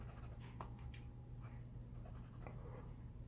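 Colored pencils scratched across paper in quick swatching strokes, a soft dry scraping that comes in short bursts and pauses, close and quiet.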